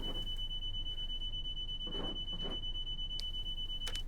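A train cab vigilance alarm sounds as a steady, piercing high electronic tone running unbroken throughout, with brief faint murmurs in the background.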